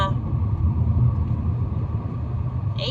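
Steady low car engine rumble from inside a moving car, continuous and fairly loud, with no voices over it.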